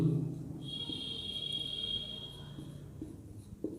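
Chalk or marker writing on a classroom board during a geometry lesson, a steady scratchy tone sustained for about a second and a half with faint room noise, no voices.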